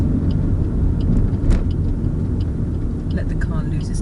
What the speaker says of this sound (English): Let the car lose its natural power.